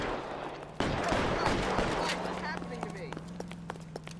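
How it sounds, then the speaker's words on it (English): Gunfire in the video game L.A. Noire: a loud burst of rapid shots starts abruptly, then scattered single cracks follow, with a person talking over the action. "Нормально там стреляют"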